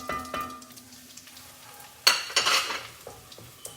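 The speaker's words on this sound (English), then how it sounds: "I'm giving it a nice stir" A spoon stirs turmeric and paprika into a pan of cooking cumin seeds, producing scattered scraping clinks and a burst of sizzling partway through, close and alone without talk.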